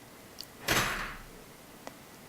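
A door is pushed shut by a cat, giving a single soft thud and brief rushing sweep, with a faint click before and another small tap afterward in a quiet room.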